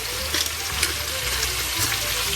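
Sweet potato frying in a pan, a loud, steady hiss and sizzle of hot oil, close and continuous with faint crackles.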